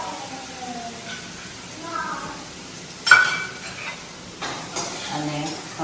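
Fresh green village garlic goes into a pan and is stirred, with scraping and a sharp clink of a utensil against the pan over a soft, low sizzle.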